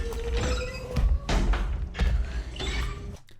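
Heavy chains clank and rattle in a Resident Evil Requiem trailer, with loud metallic jolts landing roughly once a second over creaking, grinding mechanisms, then cutting off abruptly.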